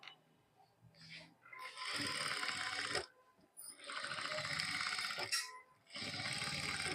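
A sewing machine stitches the front neck of a blouse, running in three sustained whirring bursts separated by short pauses, close and fairly loud.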